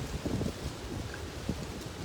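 Wind blowing outdoors, buffeting the microphone in a steady low rumble with a few stronger gusts, filling the whole short stretch without any talk.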